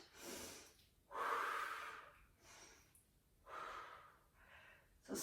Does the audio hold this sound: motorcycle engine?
no